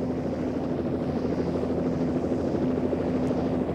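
A helicopter flies overhead on a long trip over the far Russian east, its rotor chop and engine drone loud and constant throughout, with no talk.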